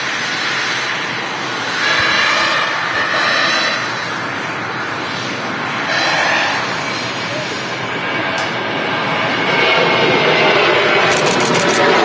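Ryanair jet departing Manchester Airport for Barcelona, a loud, sustained engine roar that swells and eases over several seconds, with a voice talking over it.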